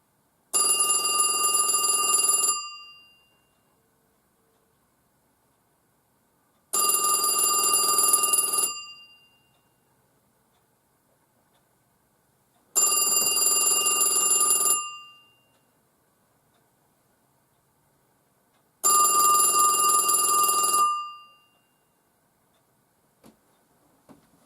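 A 1979 Western Electric wall telephone's mechanical bell rings loudly in four separate long bursts, each about two seconds long with several seconds of quiet between them, close by and with no talking.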